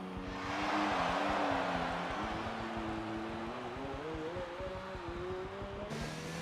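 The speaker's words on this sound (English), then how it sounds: "Benny doing some donuts." An F1 race car in the F1 video game, doing donuts at the Singapore circuit, holds a steady high engine whine with wavering pitch and tyre scrub, continuous and fairly close.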